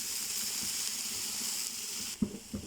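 Gongura flower chutney simmers in a pan with a faint, steady hiss, then a few soft knocks come near the end.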